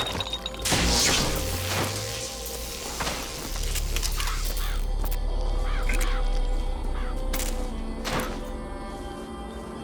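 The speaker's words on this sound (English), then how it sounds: "Press to summon murderous crows." Flock of summoned murderous crows in Bioshock Infinite, cawing and rushing in a swirling flurry over a dense game soundscape with thuds and whooshes, loud and close.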